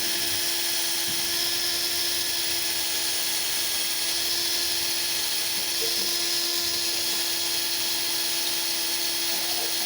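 A small drill bit bores through a drill guide while a scale-model rudder linkage bolt is being built, giving a steady, continuous high whine that holds at an even level throughout with no pauses.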